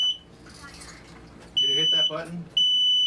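A smoke alarm going off indoors, with a shrill beep at the start followed by two loud sustained beeps, while people talk over and between the tones.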